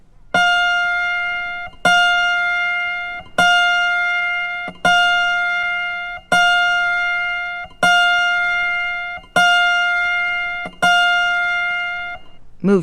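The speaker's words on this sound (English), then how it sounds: "The next string is F, which should sound like this." An autoharp's F string is plucked for tuning, about eight times at an even, steady rhythm, each note ringing clear and sustained with rich overtones before the next pluck.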